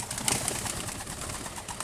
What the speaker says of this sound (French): Là, les pigeons